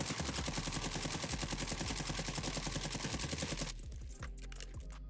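An AMAX assault rifle fires a long, steady, rapid stream of automatic shots in the battle-royale game Warzone, loud and evenly paced. The firing stops abruptly, followed by a few faint trailing clicks.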